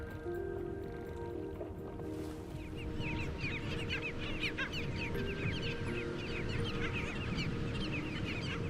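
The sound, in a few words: nesting wading birds: tricolored heron chicks, snowy egrets, anhinga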